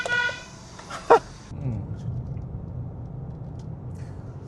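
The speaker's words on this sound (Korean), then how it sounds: "이 경적 소리가 되게 작다." A Honda CR-V Hybrid 2WD sounds a few short, thin horn toots that are fairly quiet, followed by low cabin and road rumble.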